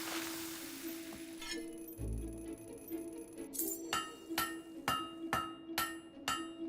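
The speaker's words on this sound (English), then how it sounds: "You know how to use a hammer." A forging hammer strikes a blade in the game Fable 3, with a series of bright, ringing metallic clinks at a steady rhythm, close and distinct, following a brief low thud.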